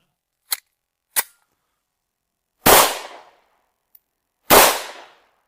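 Gunshots from a 9x19 anti-rat cartridge fired at a rat about three meters away, two faint sharp cracks followed by two loud close bangs, each with a short ringing tail.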